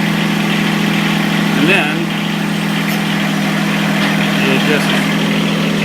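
Tractor engine idling steadily with a low constant rumble while the machine lines up with its bucket, someone talking briefly over it.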